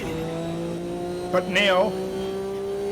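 A Group C prototype race car engine at Spa-Francorchamps in Automobilista 2, a steady droning engine tone held throughout with a short tire squeal or shift near the middle, and someone briefly speaks over it.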